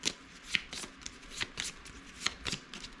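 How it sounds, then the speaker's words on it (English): Playing cards are shuffled during a tabletop naval wargame, giving a series of crisp riffling bursts at a steady pace. The sound is close and fairly quiet, with nobody speaking. "so now we shuffle these."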